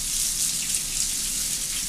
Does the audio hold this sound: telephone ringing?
no